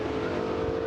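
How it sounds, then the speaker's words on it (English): Loud, close roar of a gasser drag race car leaving the line at Knoxville, a continuous harsh engine drone that holds for the whole short moment. "Look at the car leave."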